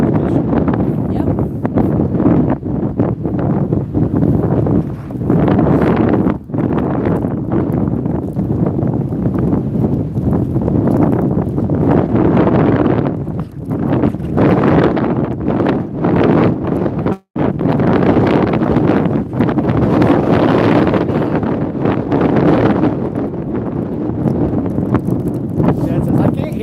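Strong wind at a carp fishing lake batters the microphone in loud, continuous rumbling gusts, with a brief dropout partway through and voices seeming to talk beneath the roar.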